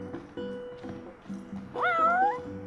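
A cat in the Final Fantasy XV video game meows repeatedly in short, close calls, ending in one longer, rising plaintive meow, with game sounds underneath.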